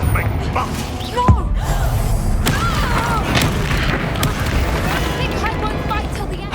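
Blasting-spell explosions from the video game Hogwarts Legacy boom loudly amid combat, with one sharp impact followed by rolling blasts, magical whooshes and shimmering tones, while a voice shouts over the fight.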